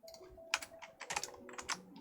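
A short run of computer keyboard keystrokes, scattered crisp taps with uneven gaps, close but quiet with a faint hum underneath.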